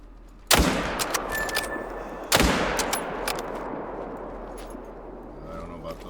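Two loud rifle shots from a hunting game, the first near the start and the second about two seconds later, each with a long rolling echo that fades out over steady outdoor ambience.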